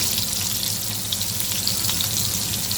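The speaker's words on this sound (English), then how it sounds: "But we heated up the oil in the pan. We put the pork chops in." Pork chops fry in heated oil in a pan, giving a steady, close, continuous sizzle and crackle with no voices.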